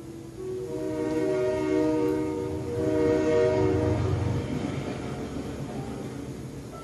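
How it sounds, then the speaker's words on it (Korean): A train arrives at a station, sounding a horn in long, sustained tones over a rolling rumble that swells and fades, with a brief knock at the very end. "드디어 기차가 죽음 정거장에 도착했다."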